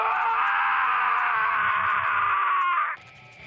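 A Death end re;Quest game character lets out a long, loud, sustained scream that holds steady for about three seconds before cutting off abruptly, leaving faint background sound.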